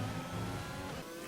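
In a Codemasters racing video game, a safety car circles the track among race cars. Engine drone holds steady and moderately loud, then eases off slightly near the end of the brief burst.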